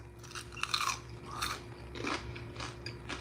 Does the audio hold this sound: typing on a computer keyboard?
no